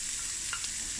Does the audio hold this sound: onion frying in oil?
yes